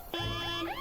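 An alarm in a video game goes off abruptly, a tonal electronic wail with a sustained pitch and rising, warbling sweeps, fairly quiet and with no talk over it.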